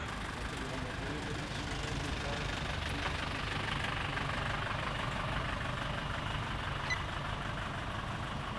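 A car engine idles at low volume while the vehicle is being positioned, a steady muffled rumble with faint voices in the background.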